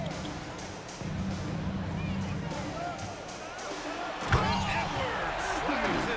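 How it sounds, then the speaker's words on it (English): Edwards slams home a dunk in the NBA 2K25 basketball game, one sharp thud cutting through a steady arena crowd roar and shoe squeaks, with commentary voices in the background. "Edwards slams it in"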